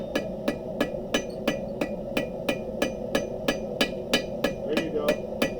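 Steady, evenly spaced hammer blows, about two per second, strike a chisel cut down to fit an anvil's hardy hole as a hardy tool, ringing sharp and close over a low background hum.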